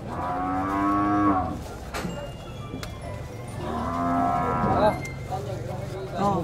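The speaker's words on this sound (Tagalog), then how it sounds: "Taba itong kalabaw ni Kabeng Winnie." A carabao (water buffalo) at Canlaon, bought from Bagonbon, lets out two long, deep moos close by, with a quieter pause between them.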